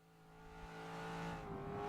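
A Corvette V8 in the racing game Forza Motorsport 6 drones steadily, its harmonic tone climbing gradually and growing louder under power, with no talking.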